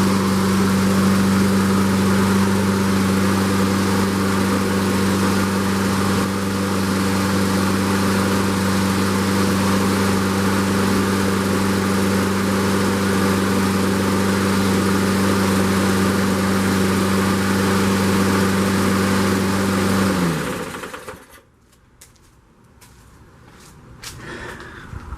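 A Toro lawn mower engine runs at a steady, loud idle-like drone with a constant low hum for about twenty seconds, then is shut off and winds down into near silence.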